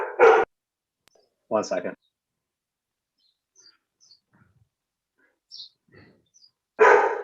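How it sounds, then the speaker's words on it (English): An agitated house dog barks in a few loud, close bursts separated by silence, with faint whimpers in between, and a voice briefly speaks. "my dog is awake now, and very upset"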